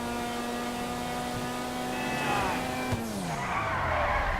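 A supercar in GTA V swings into a handbrake flip, a steady engine whine giving way to a rising tire skid squeal near the end, close and fairly loud.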